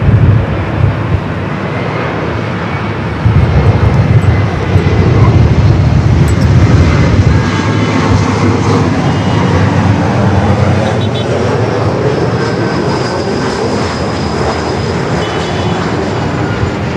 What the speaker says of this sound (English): Virgin Flight 8, the A350-1000 heading back to London Heathrow, starting its taxi